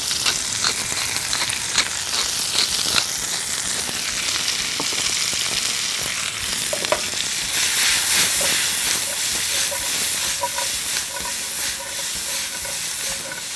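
Vegetables sautéing in butter and garlic, seasoned with salt and cracked black pepper, for a cheesesteak pizza: a steady, close sizzle and hiss with light stirring clatter throughout.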